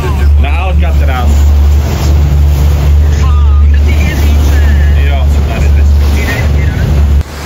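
Motorboat ride across the bay to Alcatraz island: a loud, steady engine drone with rushing water and wind buffeting the microphone throughout, while people talk over it.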